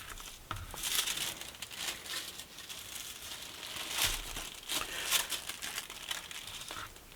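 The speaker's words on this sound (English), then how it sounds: "We will cut 2 out of fabric as well as 2 out of interfacing." Fabric and interfacing pattern pieces being cut, soft crinkly rustling of paper and cloth with scissor snips in uneven bursts, close and quiet.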